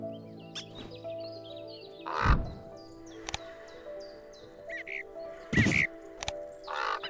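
A raven call in the Wingspan board video game, a few harsh caws spaced apart over faint tonal background music, with occasional thumps.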